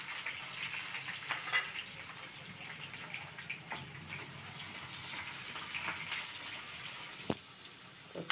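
Steady soft sizzle of frying in a pan while dry fish and okra curry is cooked, a continuous hiss at low volume with occasional faint clinks and one sharp tap near the end, no talk.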